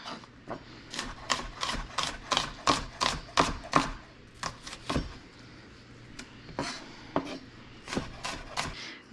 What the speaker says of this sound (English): I'm gonna thinly slice it this way